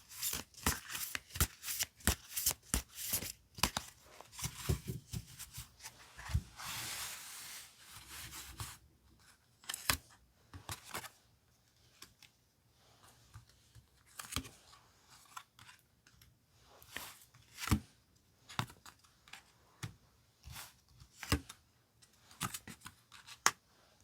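Tarot cards being shuffled and picked, with quick riffling, rubbing and snapping card sounds in dense bursts at first, then sparser flicks and taps as cards are drawn, close and alone without talk.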